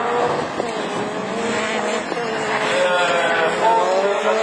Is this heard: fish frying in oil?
no